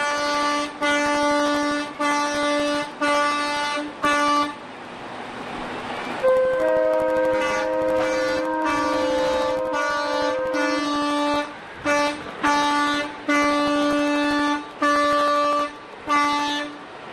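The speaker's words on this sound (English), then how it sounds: "The horn is working." Trucks honking their horns in a small-town parade: loud, repeated multi-tone horn blasts in rhythmic bursts, with a stretch of rumbling noise and one long sustained blare in the middle.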